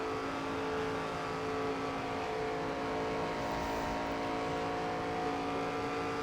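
Race car engine in NASCAR 25 at Michigan, a steady, loud, sustained high-revving drone that holds at an even pitch and level throughout, with no talk.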